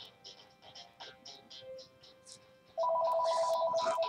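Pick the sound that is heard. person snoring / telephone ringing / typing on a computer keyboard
telephone ringing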